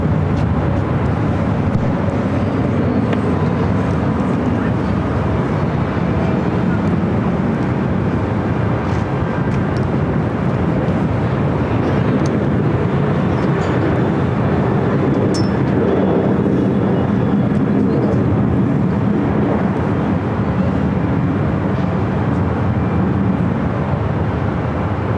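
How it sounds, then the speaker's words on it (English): A Boeing 737-800 jet arriving at Los Angeles International Airport from Denver, a loud, steady, broadband roar of engines and airflow that stays at a constant level throughout, with no talk. "coming in from Denver on a 737-800"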